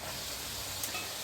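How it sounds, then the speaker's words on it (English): Onion and tomato sofrito sizzling steadily in a pan for a Catalan chicken rice, a dense, even crackle with faint stirring, close and continuous with no talking. "So 3 minutes for the onion, and now it's time to add the tomato"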